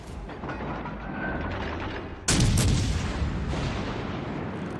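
Naval guns firing in the World of Warships Legends game: a heavy broadband boom hits near the middle, rising out of a steady rumbling battle ambience and leaving a sustained, loud roar that slowly fades.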